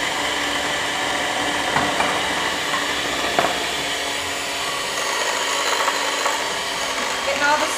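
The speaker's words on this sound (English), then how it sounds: "we're just creaming the butter and the brown sugar together" An electric mixer creams butter and brown sugar in a steady motor whir, with occasional knocks of the beaters against the bowl; a person talks over it.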